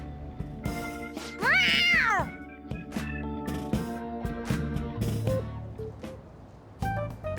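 In Persona 5 Royal, a cat meows loudly and insistently, one long rising-falling meow followed by shorter cries, set against the game's background music.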